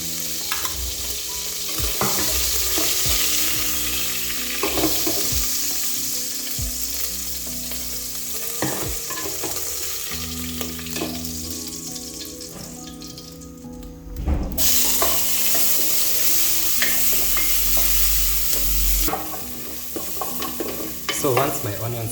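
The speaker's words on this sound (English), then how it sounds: "Then we can fry our vegetables and add our meat straight back in." Onions frying and sizzling in a pot for a beef stew, with a steady loud hiss and occasional stirring scrapes and clatters throughout, with no talking.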